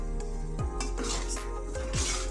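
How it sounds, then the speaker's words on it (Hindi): A spoon scrapes and stirs through jaggery halwa frying in ghee in a pan, with repeated utensil scrapes against the metal over a soft steady sizzle. "इसे चलाते चलाते मैं इसे फ्राई कर रही हूँ"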